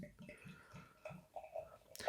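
Samuel Smith's Organic Chocolate Stout, a 5% beer, glugs softly from the bottle into a glass in a quick run of rhythmic gurgles, faint and close, ending in a brief fizzy splash.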